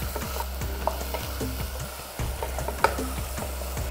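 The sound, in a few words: sautéing potatoes, peas and chili paste in a pan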